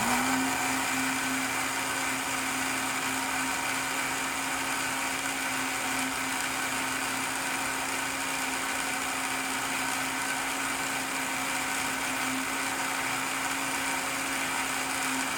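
A blender runs steadily for the whole stretch, mixing bread dough ingredients with lukewarm water and yeast: a continuous close motor whir with a constant hum that holds at a steady level and never pauses.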